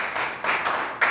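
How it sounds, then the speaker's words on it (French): Church congregation clapping for the Lord during a worship service, a few broad bursts of claps rising and falling over about a second, fairly close. "Clap for the Lord."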